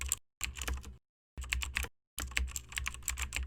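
Fast typing on a computer keyboard as a file name is entered, rapid clicking keystrokes in three short bursts separated by brief silent pauses, close and fairly quiet with no talk.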